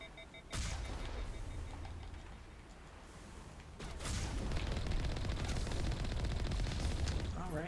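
Slow, heavy blasts from a Colossus in the Mass Effect video game, booming bursts with dense crackling battle noise layered over game music, growing louder and busier in the second half.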